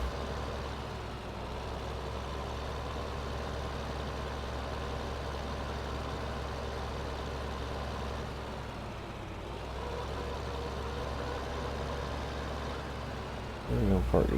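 A vehicle engine idles with a steady low drone while a small bale trailer is parked in Farming Simulator 15, continuous and moderately loud, with a brief louder clunk near the end.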